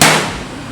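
A single sharp hammer blow drives a nail to mark a drill point on a panel door, striking loud and close, then ringing briefly as it fades.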